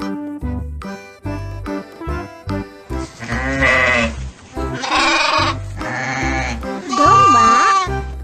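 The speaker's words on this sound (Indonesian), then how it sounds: "Domba." Sheep bleat in several quavering calls, some short and some long and wavering, loud and near, one after another with no talk.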